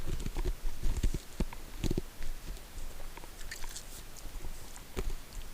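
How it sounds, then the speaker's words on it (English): Crunchy bites of ice chewed by a character in the video game Wizard101, a string of uneven sharp crunches and clicks over a soft game backdrop with a few louder bites spaced irregularly. "Chewing on some ice"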